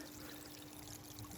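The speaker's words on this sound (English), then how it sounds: "water pumps out of this into a little pressure filter, then into the little precast pond here, then back into the main pond" Water pours steadily from a small garden pond pressure filter into a precast pond, a faint, constant splashing trickle with no break and no voices.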